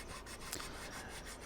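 Steady rasping rub of sandpaper on small scale-model parts for an MDT Shot Kal tank undercarriage build, a close continuous scratch with faint repeated strokes and no voices.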